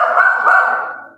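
A single close, loud drawn-out bark or howl from a dog, tonal and sustained for about a second before fading.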